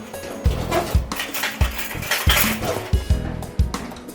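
A fork fluffing freshly cooked rice in a pot for a fish stew, giving a run of close, soft scraping and light clinking strokes at a steady rhythm, with a dog barking and some background noise.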